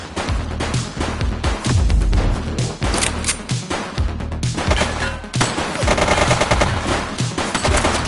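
Rapid bursts of automatic gunfire in the police video game The Precinct, loud and close, firing in dense repeated volleys with brief gaps and crashing impacts throughout.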